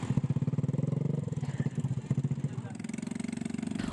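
A motorcycle loaded with food and daily supplies, being lifted and pushed over a landslide mound on a cut-off village track in Ulu Manda, Majene, with a close, pulsing engine that revs unevenly under a narrator's voice.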